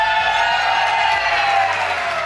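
Live esports crowd at a CEVO Counter-Strike match between Virtus.Pro and Cloud9 cheers loudly and steadily for Cloud9, a dense wash of shouting and whooping voices that carries on for the whole stretch.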